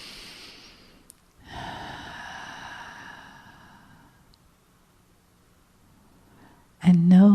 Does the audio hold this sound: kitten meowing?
no